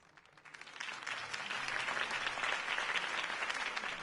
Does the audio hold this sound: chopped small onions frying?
no